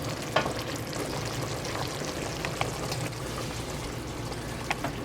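Sauce for drunken Italian noodles bubbling and sizzling in a pan, a steady close crackle with occasional light taps, no voices.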